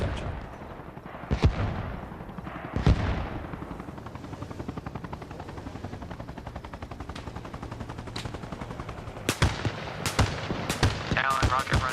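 Helicopter rocket run in the Arma Reforger video game: a steady rotor drone is broken by sharp, loud rocket and gunfire bursts, a few early and then a rapid cluster near the end, with radio chatter underneath.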